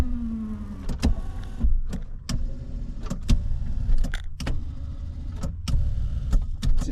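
The power seat motor of a 1966 Imperial whirs briefly, joined by sharp clicks, clunks and jangling in a quiet car interior, with the mechanical sounds arriving in short bursts and nobody speaking.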